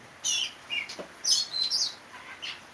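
A small bird sings nearby in short, bright bursts of high chirps and tweets, about six quick phrases with brief pauses between, clear against a quiet background with no talking.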